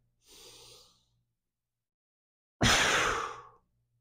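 Close breathing during an advanced Cossack progression workout, a slow lowering toward the ground and push back up: one soft, airy inhale, a short pause, then a single louder, forceful exhale lasting about a second, with no talking.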